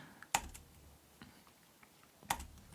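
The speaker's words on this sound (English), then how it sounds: "let me type in something here. You don't have to type this in, so I'm just typing in and deleting it." A few sparse keystrokes on a computer keyboard, with two sharper clacks standing out against quiet clicking, close and soft.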